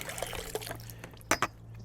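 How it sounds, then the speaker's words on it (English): Water drains out of a KOKIDO rechargeable handheld hot tub and pool vacuum in a soft, close trickle of dribbles and splashes. Two sharper spatters land near the end over a low steady hum. "And you just let all that water out."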